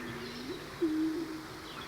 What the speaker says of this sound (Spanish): Esta en imagen es la paloma turqué